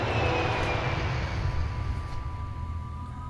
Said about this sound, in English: And on the plane now from Singapore, the plane is in the sky.